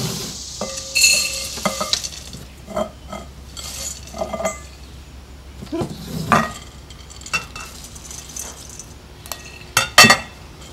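Peanuts are tossed and stirred in a bowl, a dry rattling scrape with clinks of the utensil against the rim, coming in uneven bursts close by with brief pauses between.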